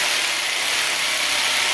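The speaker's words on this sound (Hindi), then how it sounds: "ये देखें दोस्तों, सुराख हमने आर पार मार दिया।" A power drill bores a hole right through a wall during a home solar panel installation, giving a steady, loud, unbroken grinding roar with no pauses and no talk.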